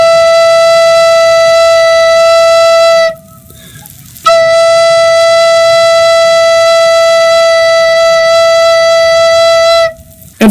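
A recorder holds a steady, pure E note, loud and close, for about three seconds, then sounds it again for nearly six seconds after a short pause, with no talking.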